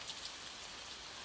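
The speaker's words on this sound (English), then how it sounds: "Let the gentle rhythm of the rain blend with your breathing" Soft, steady rain pattering evenly and faintly in the distance, with nothing else heard.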